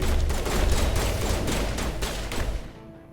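Rapid gunfire in the video game Mass Effect Legendary on Xbox One, a loud dense volley of shots that runs for a few seconds and then drops off to near silence.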